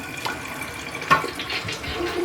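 Water flushing old winterization solution out of an RV's plumbing lines, a loud, steady rushing flow with a brief sharp burst near the middle.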